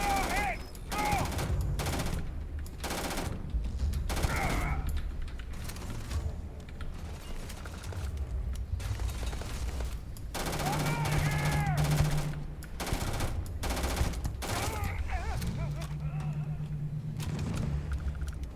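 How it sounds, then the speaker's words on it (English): Bursts of automatic gunfire in the video game Starfield, loud and dense with rapid repeated shots, mixed with game effects and occasional voices over an 18-second firefight. "Opening fire!"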